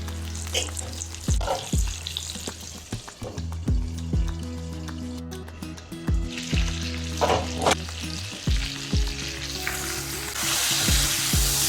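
Fish frying in a pan sizzles steadily and up close, broken by repeated clinks and scrapes of stirring and turning, with the hiss swelling louder near the end.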